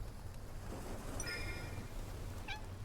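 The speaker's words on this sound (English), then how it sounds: "It's the kitten from before" A kitten in the game Love and Deepspace gives two short high meows, the first a thin drawn-out mew and the second a brief chirp, over a steady soft rain-like background hiss.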